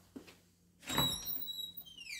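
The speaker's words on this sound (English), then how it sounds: "let's open the door" A kiln door opens with a brief scrape and thump followed by a thin metallic squeak, close and fairly quiet in a calm room, with no voices.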